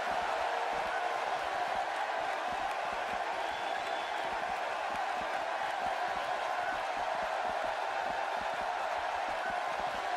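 A wrestling arena crowd in the video game WWE 2K16 roars as a constant, dense wash of cheering noise that holds at the same level throughout.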